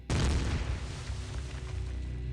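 A booming explosion from a wrestler's entrance song strikes hard at the start, then a dense rumbling roar decays slowly beneath a sustained low hum.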